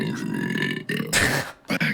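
A loud close-up burp from one person: a long rumbling eruction with a brief pause, then a short second gulp-like burst, heard alone without talk.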